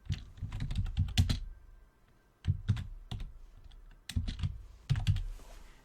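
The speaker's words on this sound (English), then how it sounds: "with the new position of my mic, my keyboard might be even more audible than before" Computer keyboard typing in quick bursts of close clicking keystrokes, with short pauses between flurries, picked up loudly by a nearby mic and alone without talk.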